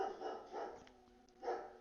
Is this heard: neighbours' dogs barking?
yes